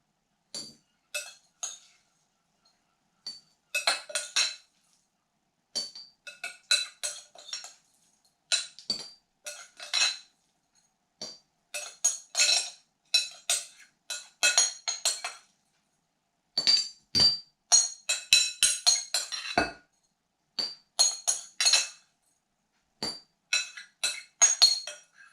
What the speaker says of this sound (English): and then we pack them into the jar in which we're going to keep them